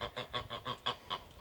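Goose honking in a fast series of about seven short, nasal calls in a steady rhythm, moderately close and alone.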